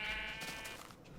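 A sheep in Minecraft Indev gives one nasal bleat, fairly faint, with no talking.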